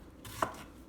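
A single knife stroke slicing an end off an onion on a cutting board, one soft, quick chop with a brief crisp thud, close and quiet, no voices.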